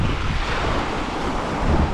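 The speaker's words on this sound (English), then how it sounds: "When all the waves come push and pull up" Ocean surf washes up on a beach in a steady, continuous roar, with gusts of wind buffeting the microphone throughout and no voices.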